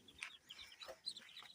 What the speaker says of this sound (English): They are wild ducks, so they are not domesticated ducks.